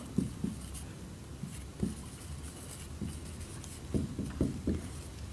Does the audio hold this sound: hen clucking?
no